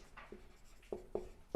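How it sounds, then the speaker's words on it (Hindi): A marker or chalk squeaks and taps across a board in a maths classroom, several short strokes in quick succession, close and faint, with no voice over them. "लिखते हैं"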